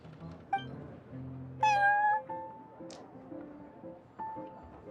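A cat meows in Genshin Impact, with a couple of clear, fairly close meows over soft game ambience and background music, no talking.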